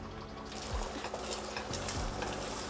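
Beaten egg cooks in hot olive oil in a pan for Cajun shrimp fried rice, a steady soft sizzle with a few scraping spoon strokes against the pan.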